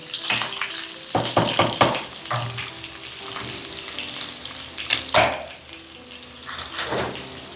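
Green chillies sizzle steadily in hot oil in a pan while being stirred for a tomato poha, with loud close frying hiss and scraping clatter from the stirring spoon throughout, no speech.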